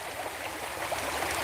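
Creek water rushing steadily along a fishing stream, a close, even wash of flowing water with small gurgles and no voices.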